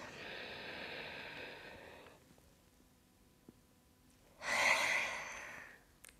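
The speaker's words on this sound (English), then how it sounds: "take a deep inhale" Deep breathing during a beginner yoga session: a long, airy inhale fading into quiet, then a strong, forceful exhale after a pause, close and clear with no talking.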